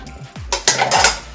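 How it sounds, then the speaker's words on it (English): Ingredients are mixed in a bowl with a utensil, giving a few loud clinks and scrapes against the bowl in quick succession, close and clear. "But throw those things into a bowl, mix them up"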